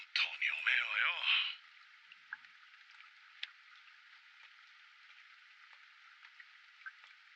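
Steady, even rain hiss falls through a scene in an anime episode, running on after a short burst of voices at the start, with a few faint drips and taps scattered over the constant wash.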